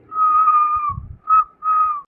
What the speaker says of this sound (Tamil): அங்க ஒரு handsome man என்ன பார்த்து விசில் அடிக்கிறாருடி.